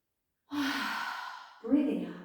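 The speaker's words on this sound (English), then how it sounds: "Breathing in." A slow, audible in-breath during a lying-down yoga stretch, soft and airy, followed by a second, fuller breath near the end, close and alone without other sound.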